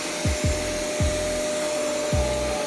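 A 1400-watt Electrolux vacuum cleaner runs with a steady, high-pitched motor whine, while several low thuds fall irregularly beneath it.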